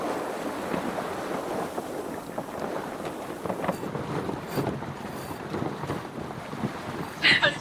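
Sailboat pushing into the wind with the anchor chain aboard, wind buffeting the microphone and water sloshing steadily against the hull, a continuous rushing roar with a brief sharper gust near the end.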